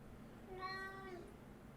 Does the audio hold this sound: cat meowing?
yes